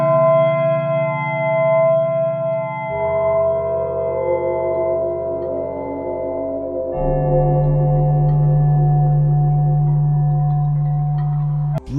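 A Minecraft music disc track plays alone: dark, sustained droning tones that shift in layers, with a low hum deepening partway through, steady and fairly loud.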